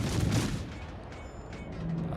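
Naval guns fire in World of Warships from a German cruiser, a loud booming blast at the start that then decays into a rumbling tail.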